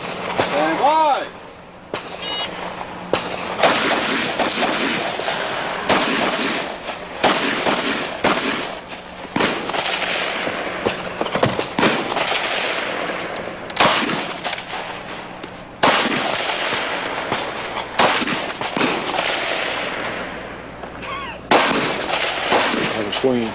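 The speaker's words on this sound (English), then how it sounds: "Semi-automatic, of course, because some of these shooters shoot so fast it sounds like full." Rapid semi-automatic fire from AR-15 style rifles at a Smith & Wesson shooting match, sharp cracks in fast strings with short pauses between bursts, loud and close, with some talk underneath.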